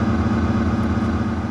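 A motorcycle engine ticking over at idle, a constant low throbbing drone, moderately loud and unchanging, heard alone without talk.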